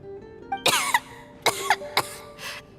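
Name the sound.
coughing in Genshin Impact video game cutscene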